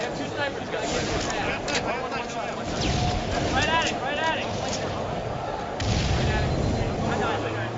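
Booming rocket launcher blasts and explosions in a Halo match at MLG Toronto 2008, repeated hits under a fast-talking commentator and crowd babble.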